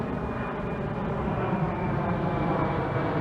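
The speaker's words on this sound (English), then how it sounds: "The military plane taking off." A military plane taking off produces a loud, steady engine roar with broad rushing noise that holds constant throughout, with no voices.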